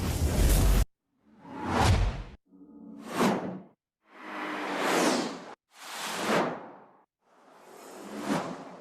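A series of six synthetic whoosh sweeps in an Ableton session, each swelling and fading over roughly a second with short gaps between, loud and clean with no voices.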